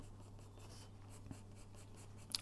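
Pencil drawing on paper while the pencil is repeatedly turned, faint soft scratchy strokes in quiet short bursts over a low steady hum, alone.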